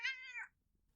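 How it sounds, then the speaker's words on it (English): A single clear cat meow, close and fairly quiet, drops in pitch at the end and then fades into near silence. "did you get a cat?"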